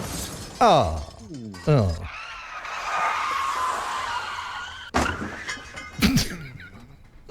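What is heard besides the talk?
car crash sound effect with skid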